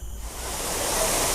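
Steady rushing water from a waterfall in Singapore Botanic Gardens, a continuous broadband roar that swells slightly and holds loud and close throughout, with no voices.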